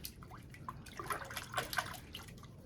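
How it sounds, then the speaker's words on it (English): Water runs and splashes into a bucket as shampoo is rinsed out of a wig by hand. The trickling and dripping sound close and fairly soft, with irregular little splashes throughout and no voices. "all of that shampoo under the running water."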